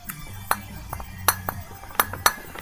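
Frosted glass items clink and chink together as they are handled, a handful of sharp, bright taps at irregular intervals over a quiet background.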